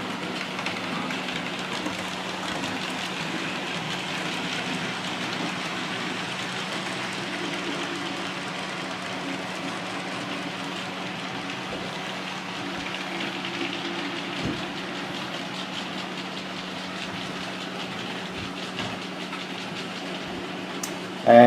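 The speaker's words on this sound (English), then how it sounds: "And both Locos run really smoothly" Hornby 4F model steam locomotives, one a new-tooled direct-drive version, running on a model railway layout, giving a steady low whirring rumble with faint track clatter that continues evenly throughout.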